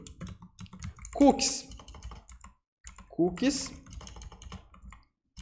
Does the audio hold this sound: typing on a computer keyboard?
yes